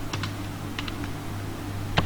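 Computer keyboard typing while an Excel formula is entered: a few quick light key clicks in pairs, then a sharper final keystroke like Enter, close and alone over a steady low hum.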